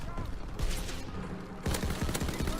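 Rapid bursts of gunfire from a weapon in the video game Call of Duty WW2, close and loud, with sharp cracks stepping up in intensity partway through and continuing as a dense volley.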